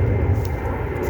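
An airplane passes overhead on a morning in a home garden, a loud, continuous low engine roar that fills the brief moment with no other sounds over it.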